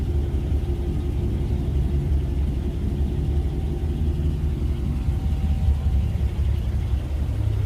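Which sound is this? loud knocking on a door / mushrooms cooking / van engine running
van engine running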